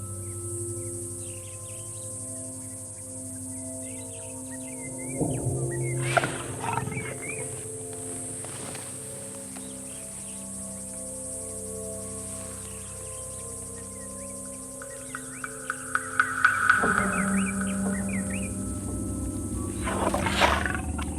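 A lion growls low and menacingly through a tense standoff with a man, with deep rumbling bursts rising in short pulses near the middle and again toward the end, set against an outdoor backdrop of insects.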